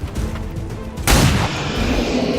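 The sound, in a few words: pistol gunfire in video game XCOM 2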